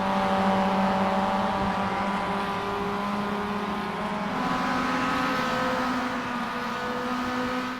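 A Mazda MX-5 production car races flat out around Silverstone in iRacing, its engine droning steadily at full throttle with harmonic tones that rise and shift through the gears, loud and continuous throughout.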